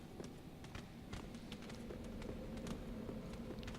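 Giant rat footsteps in Dark Souls 3, a rapid run of soft, uneven thuds and taps pattering continuously over a low ambient hum, moderately quiet and fairly close.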